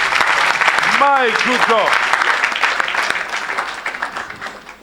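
A church congregation applauds loudly and steadily at a worship service, a dense wash of clapping that fades slightly toward the end while a voice exclaims over it.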